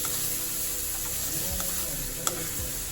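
Black-eyed peas stirred slowly in a hot pan for alasanda guggillu, a steady close sizzle with soft scraping strokes and a brief clink, no voices.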